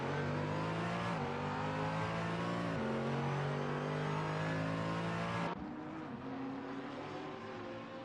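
GT racing cars lapping Bathurst in a racing video game, a steady loud engine drone with rising revs and gear shifts, the tone shifting as one car passes, no voices.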